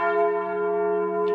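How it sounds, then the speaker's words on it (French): A church bell, pitched at G sharp, at the Sacred Heart basilica of the Paray-le-Monial sanctuary, rings a single sustained tone, close and full, with a long steady hum and no voices. "j'ai toujours aimé entendre sonner les cloches"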